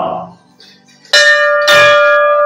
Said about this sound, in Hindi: विशाल घंटा है